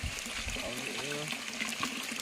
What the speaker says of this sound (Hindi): उन्हीं के बनाए हुए कुएं से ही पानी आ रहा है पीने लायक के